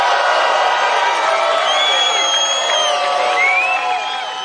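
A political rally crowd reacts to Donald Trump pitching Dr. Mehmet Oz, a dense, sustained roar of cheering and shouting voices with scattered whoops, loud and continuous throughout before easing slightly at the end.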